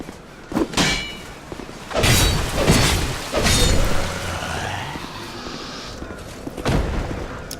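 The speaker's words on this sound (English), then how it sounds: "The guy up there will throw fire bombs at you." Fire bombs bursting in the video game Dark Souls 2, a run of loud shattering booms and thuds spread across several seconds, each hit sharp and close with a brief crackling tail.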